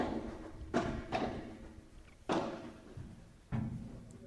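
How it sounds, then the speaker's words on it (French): Padel ball play on a rainy day at a P1000 tournament: four dull, hollow thuds of the ball striking glass walls, spaced irregularly over a few seconds, each with a brief decaying slap and no voices. "la balle qui vient glisser sur la vitre"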